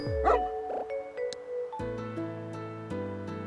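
A dog in a video game gives a short yip and a whimpering bark near the start, followed by layered electronic game music tones and chimes.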